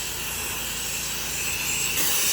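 A steady, loud hiss of water blasting from an 8 to 10 GPM pressure washer, running continuously with no pauses and brightening slightly near the end.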